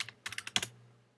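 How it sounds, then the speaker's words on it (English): Quick burst of about six close key taps on a computer keyboard numpad entering a measurement, crisp and evenly spaced, ending with a slightly firmer press, with no one speaking. "you can then adjust it by typing a measurement in on the numpad"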